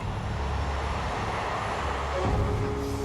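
A passenger airliner flying from London toward the USA gives off a steady, heavy engine roar. The drone is constant throughout, with a slight shift in pitch near the end.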